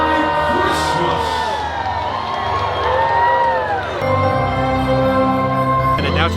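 A large crowd at a Universal Studios Monster Holidays Christmas show cheers, shouts and whoops loudly and continuously, with children's voices among the roar and some scattered talk.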